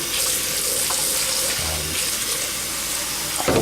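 Liquid with fermented seed mixture poured down a sink drain in a garden seed-saving setup, a steady splashing, running-water rush, fairly loud and close, with a brief gurgle at the end.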